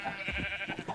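A video game sheep bleats in short, wavering cries, close and clear over a quiet background.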